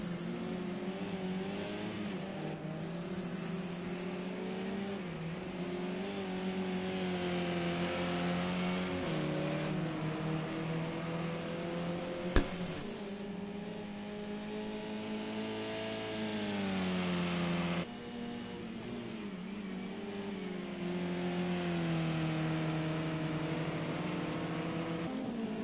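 A Mazda race car engine in a racing video game at Oulton Park Island Circuit drones continuously, with the pitch rising and falling through gear changes. One sharp click cuts in partway through.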